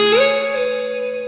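An electric guitar note bent up a full step at the 12th fret of the B string, heard over a sustained chord. The single tone swoops upward early, then rings steady with reverb until the end, loud and alone.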